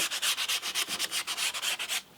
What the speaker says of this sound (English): I'm going to have to somehow just sand the edge just to widen it slightly